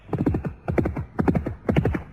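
A ridden horse gallops with rapid, repeating groups of hoofbeats in a steady rhythm, four clear bursts close and loud with no talking.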